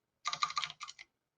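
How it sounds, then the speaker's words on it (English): A quick burst of clicky keystrokes on a computer keyboard, close and crisp, followed by a brief pause and a couple more taps before falling silent. "I'm deliberately typing it all in."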